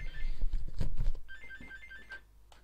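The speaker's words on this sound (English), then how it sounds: "I cannot have a phone call right now" A telephone rings nearby during a Java LibGDX coding session, giving a repeating electronic trill in short bursts. Thuds and handling noise accompany the first part of the ringing.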